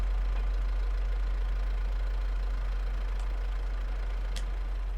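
A tractor engine in Farming Simulator 22 idles with a loud, steady low drone and a constant mechanical hum throughout, with no talking.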